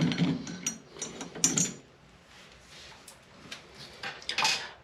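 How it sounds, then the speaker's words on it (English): A screwdriver removing screws from a Kohler Rite-Temp shower valve, heard as close, light metallic clicks, scrapes and ratcheting taps scattered irregularly across several seconds, with a few sharper clanks. "We're going to remove this screw and then the other one."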